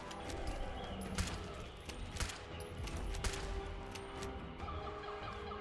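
Quiet bursts of gunfire from Fallout 4, several sharp shots in quick succession over an ambient game background, fairly faint overall, with no speech over them.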